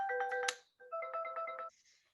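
A Stockland Lumin device rings for an outgoing video call: a bright melodic tone burst, a short pause, then a second repeating chime phrase, ending in a faint higher tone, loud and alone.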